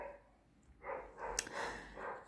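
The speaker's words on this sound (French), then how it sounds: "le chien est d'accord avec moi puisqu'il aboie dehors" A dog barks outdoors, a few faint, muffled barks heard from a distance inside a quiet room.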